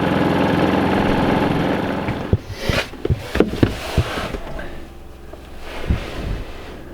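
A Predator 3500 inverter generator running with a steady engine drone, loud at first, then dropping lower under intermittent knocks, wind buffeting and handling noise.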